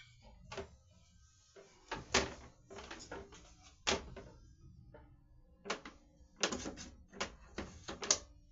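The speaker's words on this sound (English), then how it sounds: "Close this door." Several knocks, bangs and clatters come from a storage area during cleaning, up close, including a door being pushed shut after a shelf is knocked out. The sharp impacts are scattered and irregular, with no talking.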